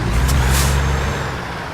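A diesel truck starting up in American Truck Simulator: a loud air-brake hiss bursts out early over a heavy low engine rumble, which then settles into a steady idle.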